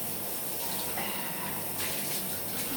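Kitchen tap running steadily into a sink to soak food containers, a constant close splashing gush of water with no voices.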